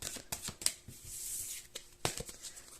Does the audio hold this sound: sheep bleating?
no